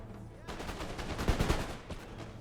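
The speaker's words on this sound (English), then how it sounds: "Let's have the front 2 regiments continue to fire." Regiments fire muskets in a video game battle, a dense crackling volley of overlapping shots that swells and rolls for about two seconds against a faint background.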